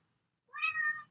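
Mrs. Cat Jones, a pet cat, gives one short, close meow after a moment of silence, clear and alone with no voices.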